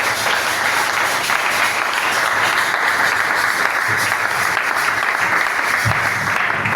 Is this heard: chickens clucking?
no